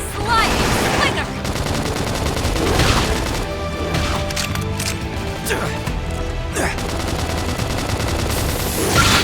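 Rapid gunfire and booming blasts from a Xenoblade Chronicles X battle, dense and loud throughout with sharp bursts over busy combat noise and occasional voice callouts.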